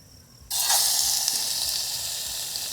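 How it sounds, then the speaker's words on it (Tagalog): Pork for adobo hits a hot pan at a camp and starts rendering its fat, a sudden loud close sizzle that holds steady and hissing after a quiet start. "Toastin muna natin to. Palabasin natin yung mantika niya."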